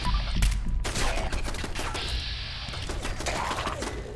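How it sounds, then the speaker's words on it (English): Machine gun turrets fire at ghouls in a video game, rapid bursts of rattling shots overlapping in dense volleys for several seconds. "Come on, machine gun turrets. Kill the ghouls."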